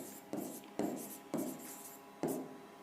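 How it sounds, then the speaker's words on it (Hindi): Marker or chalk strokes on a classroom board come in four distinct scratchy bursts, each a short rough stroke followed by a pause, close and clear with no talk. "मेरी आईडी मैं यहाँ लिख देता हूँ"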